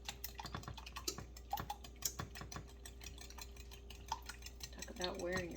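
Eggs are whisked in a bowl with quick, irregular clicks and scrapes of a whisk against the sides, soft and close, over a faint steady hum.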